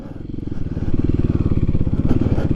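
A Kawasaki KLX300SM motorcycle putters along in first gear on a dirt track, its single-cylinder engine thumping in a steady, rapid pulse, loud and close, with no talking.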